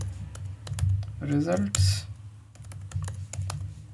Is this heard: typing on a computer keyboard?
yes